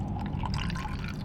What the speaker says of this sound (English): we can put some lemon juice in